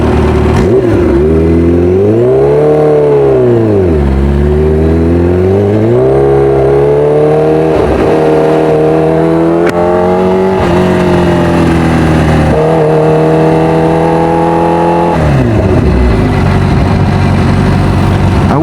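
A Kawasaki Ninja H2R motorcycle engine runs steadily while warming up, loud and close, its idle pitch rising and falling with repeated gentle blips of the throttle throughout.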